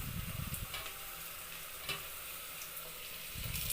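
Chopped tomato fries in hot oil in a pan while palak pulao is being prepared, giving a quiet, steady sizzle with a few soft stirring scrapes and no talking.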